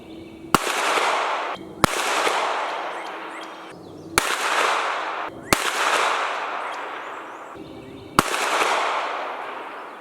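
Five sharp gunshots from a SIG MPX K firing 124 grain Gold Dot rounds at 25 yards, spaced irregularly over several seconds, each a loud crack followed by a long ringing decay outdoors.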